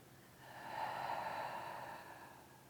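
Slow, soft breath drawn in and released during a guided conscious-breathing self-massage, a single quiet airy swell rising and fading, close and alone with no talk.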